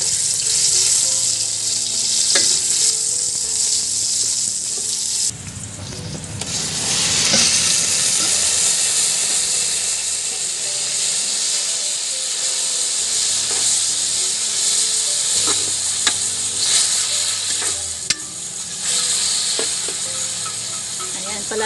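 Onion and garlic sizzle in a pan in a home kitchen, a continuous hiss of frying with occasional clicks and clatters of a utensil, with faint talk in the background.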